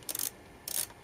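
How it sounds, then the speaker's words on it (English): A 10mm ratchet wrench, used during a glow plug repair on a Honda Civic 1.6 i-DTEC estate, gives two short, quick ratcheting bursts separated by a brief pause, close and fairly quiet. "Testing this ratchet works."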